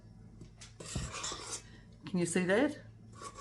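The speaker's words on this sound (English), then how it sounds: "using a metal spoon, I am just going to fold it over like that" A metal spoon folding dry ingredients in a mixing bowl for a cinnamon oyster sponge, soft scraping and clinks close by, with someone talking over part of it.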